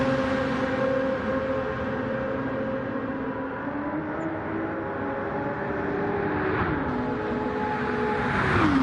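An Aston Martin race car in a Le Mans endurance racing video game sweeps past, its steady engine drone holding a sustained tone that bends downward as it passes, then swells louder toward the end.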